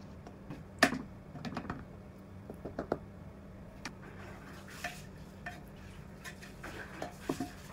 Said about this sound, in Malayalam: ഇനി ഇതിൽ നിന്ന് പകുതി റൈസിനെ നമുക്ക് വേറൊരു പാത്രത്തിലോട്ട് മാറ്റാം.